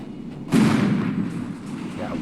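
Artillery in a military video game, a single loud blast that hits about halfway in and decays into a long rumbling tail, with faint battle noise before it.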